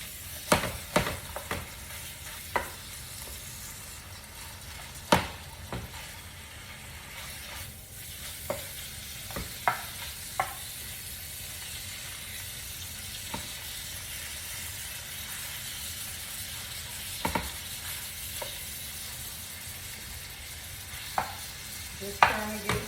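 Ground lamb sizzles in a frying pan, a steady quiet hiss broken by scattered scraping and tapping knocks as a utensil breaks up and stirs the meat; no talk.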